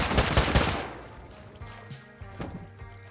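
Rapid gunfire in a survival video game raid, a dense burst of shots up front that cuts off within a second, followed by scattered fainter pops and knocks.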